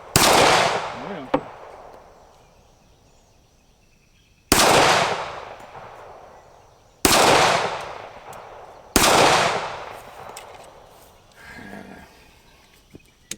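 Four sharp, loud gunshots from a Colt MK IV Series 80 CCO 1911 pistol at an outdoor range, spaced a few seconds apart, each followed by a long, fading echo, with faint talk in between.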